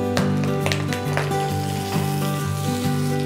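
Scrambled egg and boiled chicken sizzle in a hot wok while being stirred for fried noodles, a loud continuous frying hiss with a few scraping stirs over about three seconds.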